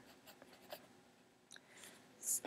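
Pen or marker scratching out an equation on a writing surface, soft intermittent strokes and taps close by with no voice, during a lesson on solving addition and subtraction equations.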